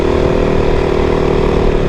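A motorcycle engine held at a steady, loud, droning rev while the bike lifts into a wheelie, a constant buzzing hum with no speech over it.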